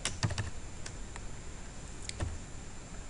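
A few scattered keystrokes on a computer keyboard while writing code in Visual Studio 2010, sparse close clicks separated by pauses.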